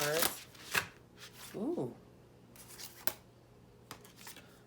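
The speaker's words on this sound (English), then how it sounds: "let's get a shuffle on these cards" A deck of tarot cards being shuffled by hand in a few quick riffling bursts, the crisp flutter separated by short pauses and brief scraping taps, with a person giving a small exclamation between them.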